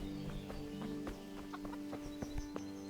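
Chickens cluck in short, scattered bursts around a village in the game Kingdom Come: Deliverance, heard faintly over a steady tonal background hum with light clopping-like taps.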